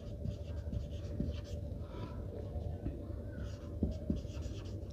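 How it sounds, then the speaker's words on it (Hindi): Marker or chalk writing on a board during an eighth-grade maths lesson on quadrilaterals, steady scratchy strokes with a few sharper taps, close and fairly quiet against a low hum. "जैसे मैं लिख देता हूँ"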